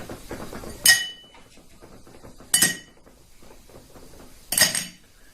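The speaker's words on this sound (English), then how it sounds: "So I'm going to put this ice cube into the glass tumbler" Ice cubes dropped one by one into a glass tumbler, three distinct sharp clinks spaced about two seconds apart, close and clear against a quiet background.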